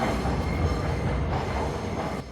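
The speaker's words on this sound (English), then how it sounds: "I like everything about where I'm staying except the train that goes by too" A train rolls past a small park in San José, Costa Rica, a loud, continuous low rumble and rattle of wheels and cars nearby, steady throughout with no talking.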